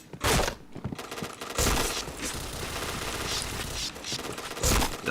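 Gunfire in the shooter game Point Blank, with loud bursts of automatic fire in several rapid volleys separated by brief pauses.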